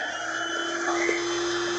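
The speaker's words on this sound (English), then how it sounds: "I gotta blow this bed up again, guys. Like I said, I use an air mattress." A small electric air pump inflating an air mattress, giving a steady, loud, continuous whirring drone much like a vacuum cleaner, unbroken from start to finish with no talk.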